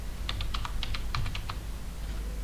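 A computer keyboard is typed on in a quick burst of about a dozen crisp, close keystrokes, then the typing stops and a quiet room hum remains.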